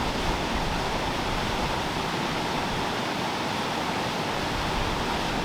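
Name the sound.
flowing water of the River Windrush, Cotswolds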